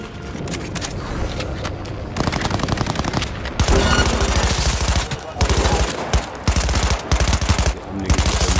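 A Gatling gun fires in a game in long, rapid bursts of dense, rattling shots, loud and close. The bursts break off briefly several times and then resume at full volume.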